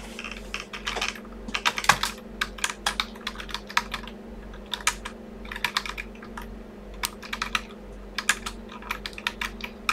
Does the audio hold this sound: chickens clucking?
no